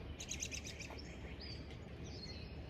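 Birds chirp near a body of water at sunrise, a quick run of high bright tweets followed by scattered fainter calls over a low outdoor rumble, moderately distant with no talk.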